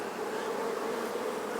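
Honeybees buzzing densely around an open hive during a queen introduction, a steady close swarm drone with no pauses and no voices.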